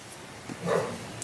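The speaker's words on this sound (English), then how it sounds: "Bentley's barking. And Scarlett's growling." Dogs Bentley and Scarlett in a home, a brief soft bark followed by a short low growling bark, close and fairly quiet.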